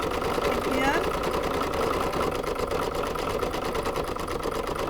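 In-the-hoop embroidery machine stitching a bee's head in black thread runs with a fast, steady mechanical whir and rapid needle chatter, close and continuous throughout.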